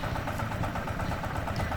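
A tractor-like farm machine smoothing soil in a Korean garlic field runs with a steady, continuous mid-to-low engine drone, close and even throughout with no talk.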